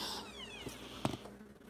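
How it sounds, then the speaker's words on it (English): Pet cats waiting for dinner, one short whiny meow rising and falling, close and moderately loud, followed by a couple of soft thumps and rustles. "Greedy ass cats."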